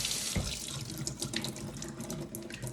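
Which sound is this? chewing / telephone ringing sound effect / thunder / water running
water running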